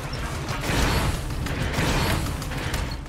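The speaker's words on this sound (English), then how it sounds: "The tank and jump bot sound effects have that heavy machinery feel" Heavy, grinding machinery of a tank and a jump bot vehicle in the Sand Land video game, a dense continuous rumble with creaking, ratcheting metal texture that stays loud and steady throughout.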